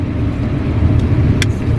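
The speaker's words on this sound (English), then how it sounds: "we just came inside the car and put the air conditioner on while waiting" A car engine idles with the air conditioner running inside the cabin, a steady low rumble and airy hum with a brief faint tick near the end.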